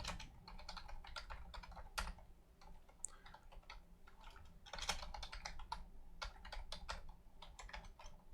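Rapid computer keyboard typing fills the stretch, a dense run of crisp key clicks in irregular bursts with short pauses, close and moderately loud, no voices.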